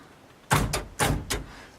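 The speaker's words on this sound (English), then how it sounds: "Power door locks." Power door locks on a 1989 Dodge Fiesta camper van actuate in four quick, close, solid clunks, spaced in two pairs over quiet cabin background.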